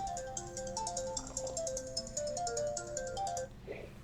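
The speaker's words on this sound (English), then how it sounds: "That's not my phone ringing if you hear it." A phone ringtone plays a bright, repeating electronic melody, steady and fairly loud on its own for most of the clip before cutting off near the end.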